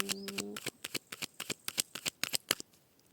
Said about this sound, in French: On va déjà faire une coupe avec le grand oracle de l'amour.